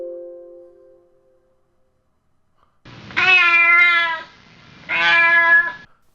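A small cat meows twice, loud and close, each call long and drawn out with a pause between, after a faint tonal sound at the start.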